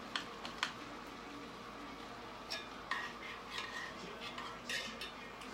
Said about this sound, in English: I'm just stirring up the scampi sauce.